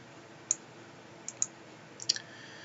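A computer mouse clicks on a desktop, about four short, crisp, quiet clicks spaced irregularly, two in quick succession near the middle, over a faint steady hiss with no talking.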